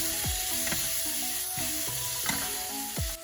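Onions sizzle and fry steadily in a hot pan during the cooking of Filipino adobo. The crackle stays close and even throughout, with faint musical tones running underneath.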